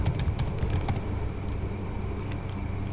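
Keystrokes on a computer keyboard during setup of a Laravel web application: a quick cluster of sharp clicks in the first second, then sparse, fainter taps over a steady background hum, with no talking.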